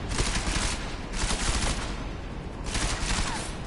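Heavy gunfire rings out in the video game Deus Ex: Mankind Divided, dense rapid bursts and sustained volleys filling the scene loudly and continuously, with brief lulls between waves of shots.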